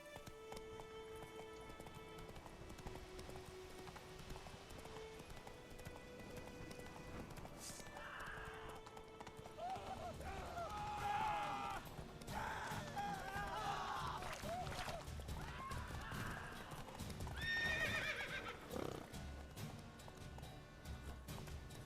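Hoofbeats of a galloping horse in a video game horse race, rapid clip-clop rhythm with occasional whinnies, rising and falling in loudness against background game sound and crowd noise.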